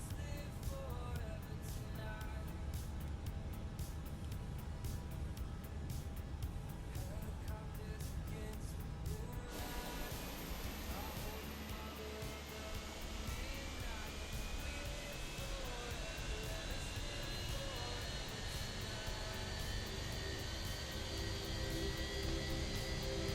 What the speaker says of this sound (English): Starting engine 2.